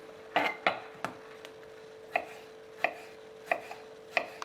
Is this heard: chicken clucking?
no